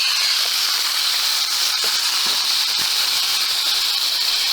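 A thick steak seared in a very hot pan gives a steady, loud, broadband sizzle that holds evenly throughout, with a few small crackles and pops rising out of the hiss.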